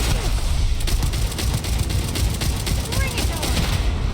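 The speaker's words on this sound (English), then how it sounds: "What is shooting that at me?" Rapid bursts of gunfire in the sci-fi video game Starfield, loud and dense, crackling over a busy combat soundscape with several sharp shots clustered throughout.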